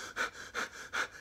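A voice imitates panicked breathing: three quick, close, raspy breaths in a steady rhythm, each a short sharp rush of air.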